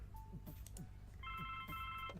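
A telephone rings in The Blackwell Legacy video game, a steady electronic ring tone sounding out over low background music.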